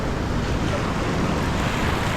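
Ocean waves wash onto the shore at Galle, Sri Lanka, in a steady, loud, broadband roar with wind buffeting the microphone, no distinct individual breaks and no talking.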